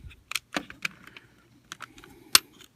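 Plastic panels on a DX9 Toys Chigurh figure being folded: a series of close, crisp clicks and snaps, irregularly spaced, with one sharper click near the end in an otherwise quiet room.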